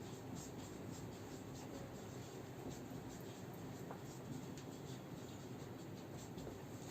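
Chalk or marker writing on a classroom board, faint continuous scratchy strokes over a constant low background hiss, with no speech.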